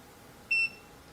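One short, bright electronic beep from a VEVOR 12-inch foldable oscillating standing fan as its timer is set by remote, clean and close against a quiet room.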